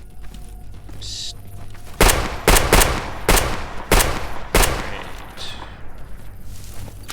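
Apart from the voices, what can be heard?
gunfire in video game S.T.A.L.K.E.R. G.A.M.M.A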